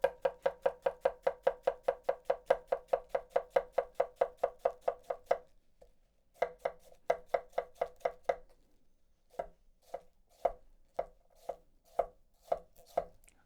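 Close, crisp knife chops through raw cabbage with a Yoshikane bunka, a fast even run of sharp strokes on a board, then a pause and slower, more spaced chops.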